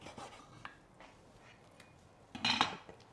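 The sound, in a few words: knife slicing through slow-roasted bulgogi ribs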